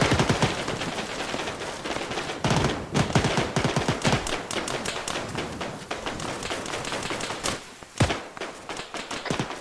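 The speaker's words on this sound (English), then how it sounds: "We definitely got a gunfight up here" Arma 3 gunfight with rapid machine-gun bursts, loud and close, packed into dense runs of sharp cracks, then broken by a pause and a few heavier single shots.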